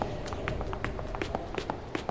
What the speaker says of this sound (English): I hear footsteps. I hear those a lot in this game.